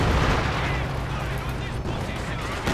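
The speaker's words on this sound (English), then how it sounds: "Katusha barrage." A Katusha rocket artillery barrage in Company of Heroes 2, a dense, continuous roar of launches and blasts that stays loud throughout, with a caster talking over the battle.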